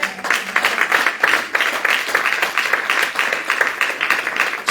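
Church congregation applauding, a dense, sustained crowd of clapping at close range with a slightly uneven rhythm, with no clear speech over it.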